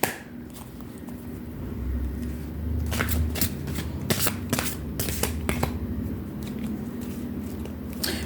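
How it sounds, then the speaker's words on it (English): Playing cards shuffled by hand, a run of crisp riffling bursts and flicks over several seconds, close and fairly loud, with no talking. "I'm just going to shuffle the cards for Aries here now"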